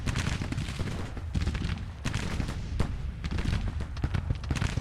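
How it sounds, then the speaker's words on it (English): Counter-battery artillery fire in the Grand Tactician Civil War strategy game, 1862 Nashville campaign, a dense continuous barrage of overlapping cannon and musket reports, loud and rumbling with frequent sharp cracks and no pause. "We're taking some counter battery fire losses here."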